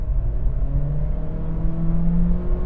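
A 2025 Acura ADX accelerates with the pedal down at around 30 mph, a loud, steady engine drone that rises gradually in pitch over a few seconds, heard from inside the car with no talking.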